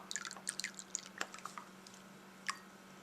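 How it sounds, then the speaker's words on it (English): Worcestershire sauce poured into a half cup of water, faint close drips, splats and small liquid squishes, scattered and irregular over a low steady hum. "We're going to go ahead and add 1 tablespoon of Worcestershire sauce."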